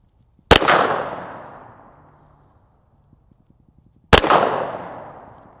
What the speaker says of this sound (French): On va faire un peu de tir de précision.